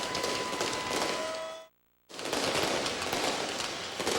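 Dense, continuous crackling bursts of fireworks at a Memphis ballpark after a minor-league baseball game, loud and sustained, broken by one brief silent gap before the barrage resumes.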